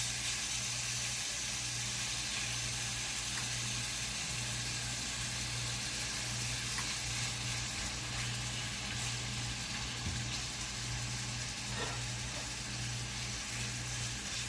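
Chicken and mushrooms fry in a pan, giving a steady, even sizzle and hiss that holds at the same level throughout with no talk.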